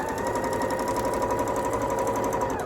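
A freshly cleaned home sewing machine runs steadily, stitching quilt pieces together for a beginner-friendly quilt. The motor and needle make one close, unbroken whir that holds at an even pace throughout.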